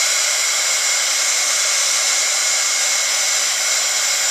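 A hair dryer blows on a wet brass stamping between patina layers, a loud, steady, continuous rush of air running unbroken, with no one speaking.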